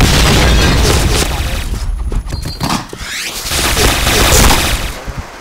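Video game gunfire booms and crashes in loud, dense bursts, near and continuous, mixed with explosive blasts and whooshes while a player talks over the action.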